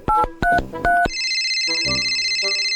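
A telephone is dialed: three short, loud keypad tones in quick succession, then a steady electronic ringing tone that pulses on for the rest of the moment, with no voices.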